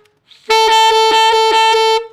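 A saxophone plays F sharp with a false fingering taken down to low B, sounding the harmonic: a sustained, bright, reedy note after a faint lead-in, repeatedly re-articulated with quick key or tongue pulses, loud and close, no talking.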